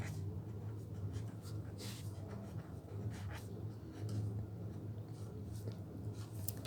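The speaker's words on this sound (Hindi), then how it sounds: "बाकी ऐसे ही लिख देती हूँ।" Pen or pencil scratching across paper while working a Class 9–10 algebra exercise, a steady run of small close strokes under a low background hum.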